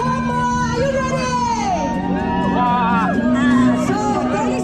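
A crowd of supporters cheers runners at the start of a trail race in Vang Vieng, loud whoops and shouts layered over steady chatter, with an announcer's voice carrying over the excited noise.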